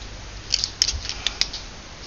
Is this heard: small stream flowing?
no